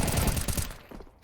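A burst of gunfire in Counter-Strike 2, several rapid loud shots in quick succession that cut off and leave a brief quieter tail, with no talking.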